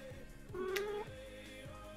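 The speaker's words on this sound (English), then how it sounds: "What? Is that a cat?" A cat meows once, a rising tonal call heard faintly in the room beneath a steady background hum, standing alone without any talk.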